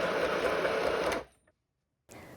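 A cheap, toy-like budget sewing machine whirs steadily at close range for just over a second, then cuts off into silence before a faint rustle of handling returns.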